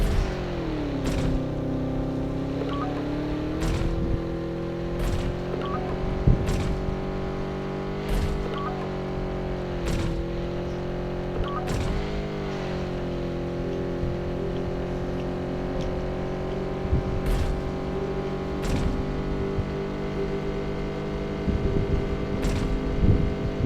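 A car in the Undawn game drives along a desert road, its engine a steady drone that rises and dips with gear shifts, joined by periodic sharp ticks and knocks; no one speaks.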